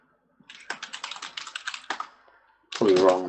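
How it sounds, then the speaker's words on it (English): Fast clatter of keys on a computer keyboard as an answer is typed, a steady burst of clicks for about two seconds, followed by a person starting to speak close by. "I'm typing my answer on a notepad."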